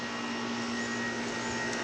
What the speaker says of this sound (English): air conditioner, by the way, in the background